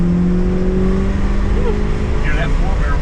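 A 1969 car engine with a 4-barrel carburetor and Kragers idles and revs nearby, a steady low rumble with a droning tone that rises slightly.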